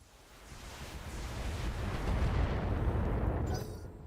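Volley of SRM missiles launched from a mech in BattleTech, a rolling rush of blasts swelling to a loud sustained roar before dropping off near the end, with no talk.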